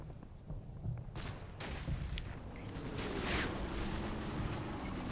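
Scattered gunfire and distant battle noise from Combat Mission: Battle for Normandy, a World War II battle with American troops under fire, rising into dense overlapping shots and rumbles, moderately loud with no talking.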